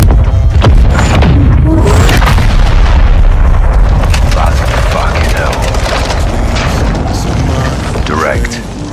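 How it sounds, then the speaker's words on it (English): Airstrike explosions in Call of Duty Modern Warfare, a dense barrage of loud booms and thuds rumbling continuously with battlefield noise and voices over the top. "let's call an airstrike."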